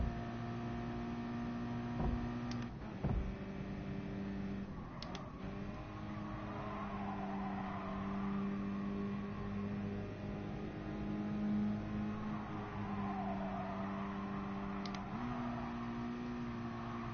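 A race car engine in GT Sport drones steadily with pitch that rises and drops as gears shift up and down, plus a few sharp clicks, all at moderate level without talk.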